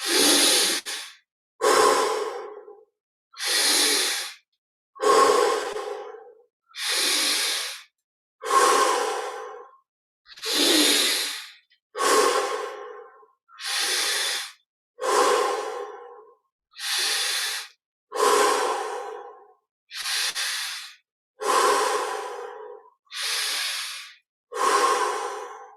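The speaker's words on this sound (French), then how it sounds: "On respire 20 fois profondément." A person taking slow, deep breaths during a guided meditation, inhaling through the nose and exhaling through the mouth, about fourteen airy, evenly spaced breaths, close and clear with short silences between.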